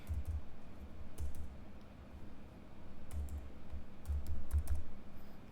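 Someone types in short bursts on a computer keyboard, fairly close and clear, with clusters of crisp key clicks separated by brief pauses and no talking.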